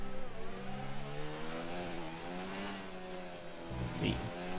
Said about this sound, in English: Go on board, revving it out in 7th gear.